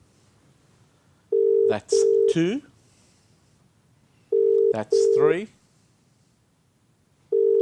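An outgoing telephone call rings unanswered, the ringback tone sounding in steady repeated bursts while a man counts the rings aloud between and over them.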